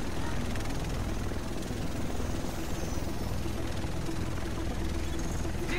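A large rotor aircraft, the Avenger, arrives in a video game set on New York streets, a continuous loud whirring engine drone that holds steady throughout.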